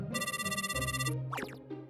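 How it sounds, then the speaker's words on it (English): A phone ringtone plays a bright, rapidly pulsing electronic trill for about a second, then stops, followed by a brief shuffling clatter. "A phone call?"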